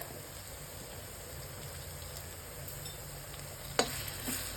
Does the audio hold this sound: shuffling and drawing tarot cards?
no